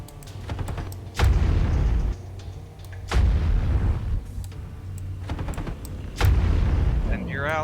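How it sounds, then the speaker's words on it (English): Mech weapons and missiles firing in MechWarrior 5: three heavy booming volleys spaced a couple of seconds apart, each with a sustained rumbling blast, amid rapid clattering shots and occasional voices. "he tried to shoot some missiles"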